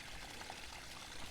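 Water leaking from a small hole in a garden pond, spraying onto a rock and spilling over its sides, makes a steady, continuous pouring wash close by with no talking.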